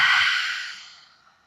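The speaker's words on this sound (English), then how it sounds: "Exhale." A single long exhale during a yoga relaxation in Shavasana: one close, breathy sigh that starts strong and fades out smoothly over about a second.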